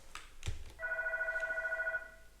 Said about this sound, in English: Phone incoming call.